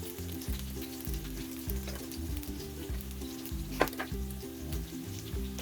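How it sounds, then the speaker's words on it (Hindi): Chicken seekh kebabs deep-fry in oil with a steady, dense sizzle and bubbling, continuous and close, with a brief clink partway through and no talking. "जब अच्छी तरह से चारों तरफ से हमारे कबाब जो हैं गोल्डन ब्राउन हो जाएं तो हम इन्हें ऑयल से निकालते जाएंगे"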